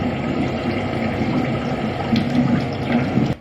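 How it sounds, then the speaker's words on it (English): Steady broadband rush of a shower running in a bathroom, continuous and fairly even throughout with slight surges near the end, heard from just outside the room with no talking. "Drew's in the shower."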